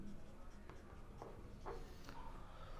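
Faint scratchy strokes of a pen or chalk writing a chemistry formula on a board during a class, a few short marks in quick succession against a low steady room hum.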